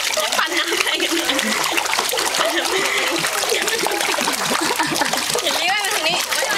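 Children swimming in a swimming-course pool churn and splash the water in a dense, continuous, close-up wash of sloshing and spray, with excited voices mixed in throughout.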